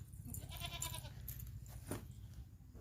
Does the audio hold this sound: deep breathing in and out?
no